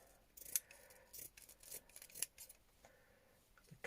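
Scissors cut through fabric for a textile junk journal cover, making quiet, close crisp snips and soft rubbing in a few irregular bursts.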